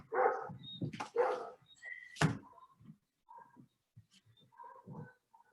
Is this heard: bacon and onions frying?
no